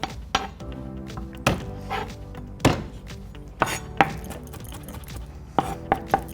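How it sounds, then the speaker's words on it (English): Garlic cloves crushed and roughly chopped for a veggie burger, irregular hard knife thwacks and knocks on a board, some louder than others, close up with no talking. "So once you have your mushrooms chopped, we'll get our garlic prepared. You want to just crush them."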